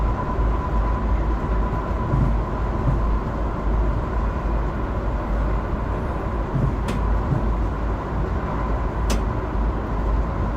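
A JR commuter train runs steadily in the Train Crew railway game, a constant rumbling drone of wheels and motor with a faint hum and a few brief high clicks, loud and close throughout with no talking.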